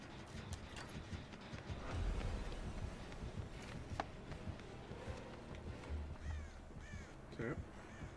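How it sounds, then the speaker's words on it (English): Crows cawing in Dead by Daylight, several harsh caws scattered over a busy game soundscape with footsteps and thuds, a voice speaking faintly underneath. "Getting crows."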